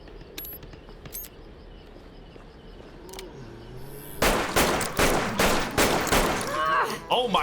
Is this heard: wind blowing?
no